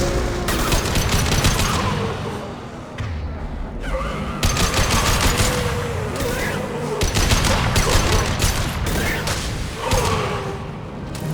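Player's gunfire in Mass Effect 2 on Insanity difficulty, loud rapid bursts of shots in repeated volleys with booming impacts and whooshes, dense and continuous across the scene.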